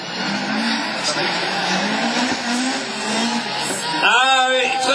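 A rallycross car slides out of the joker lap at Mayenne, a loud continuous engine roar with a long smeared tire-slide hiss, and a voice cuts in near the end.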